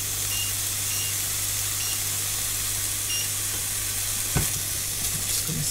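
Ingredients browning in a hot frying pan on high heat for a crustless quiche, a constant loud sizzling hiss with a low steady hum beneath and a brief knock near the end.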